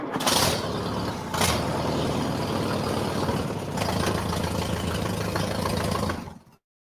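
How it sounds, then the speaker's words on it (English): A 1952 Allis-Chalmers WD farm tractor engine runs steadily at a loud, close idle with a rough, knocking throb and a couple of sharp bursts early on, fading out abruptly at the end. "1952 Alice Chalmers WD. This is a style of tractor I grew up on."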